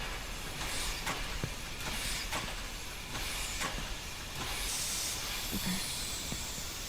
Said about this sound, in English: Steam, I guess.